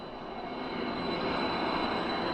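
A private jet of a band drones with a steady, fairly quiet engine roar at an airport, the rush swelling slightly and holding constant throughout, with no talking.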